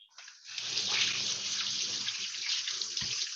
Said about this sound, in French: il y a quelqu'un qui fait sa douche là et qui a laissé le robinet ouvert